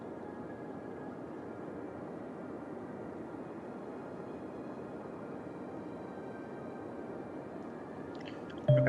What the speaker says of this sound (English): Look at that beautiful plane that just passed by